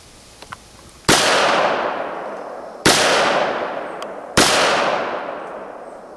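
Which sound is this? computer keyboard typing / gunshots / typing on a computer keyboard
gunshots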